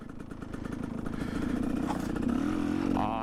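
A motorcycle engine cranking and starting up, a rapid rhythmic mechanical chugging that catches and settles into a steady, slightly louder idle close by, with no talking.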